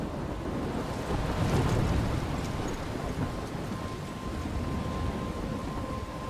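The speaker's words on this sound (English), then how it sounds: "I'm trapped in a storm?" A storm in the video game Life is Strange, with steady roaring wind and surf-like rushing noise and a low rumble swelling briefly before settling into a constant blustery wash.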